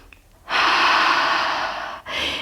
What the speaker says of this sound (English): Take one more breath here.